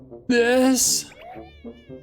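A cat in the video game Impostor Factory gives one loud, drawn-out meow, followed by quieter rustling and soft sounds.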